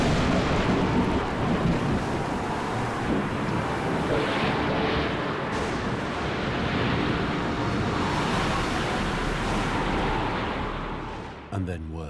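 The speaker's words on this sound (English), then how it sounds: "First, they were hit by a storm." Thunderstorm at sea battering a poorly manned ship, a dense, loud, continuous roar of wind, surf and rumbling thunder that fills the whole stretch and cuts off abruptly at the end.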